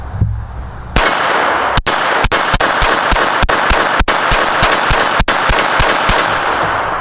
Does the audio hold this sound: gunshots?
yes